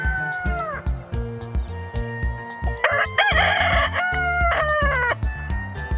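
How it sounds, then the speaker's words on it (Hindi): Rooster crowing in a children's bird-learning piece, with a harmonic rising-falling call over a steady musical backing and a cat-like meowing tone mixed in. "रूस्टर को हिंदी में मुर्गा कहते हैं। ये सुबह बांग देता है।"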